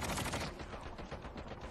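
Machine gun fire in a video game, heard as a loud, fast, continuous burst of rattling shots with no talking over it.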